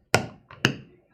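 Two sharp hammer blows on a tabletop during leather tooling, about half a second apart, with a faint scrape between them; close and alone.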